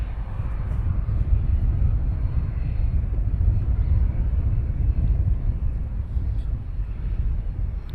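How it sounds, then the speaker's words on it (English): A small business jet taxis out at Luton Airport, a steady low engine rumble and roar heard from a distance, with faint wind noise over the mic. "we have a little, another little Bizz Jet taxiing out"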